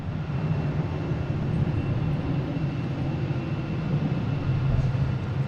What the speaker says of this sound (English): I think I heard a plane take off.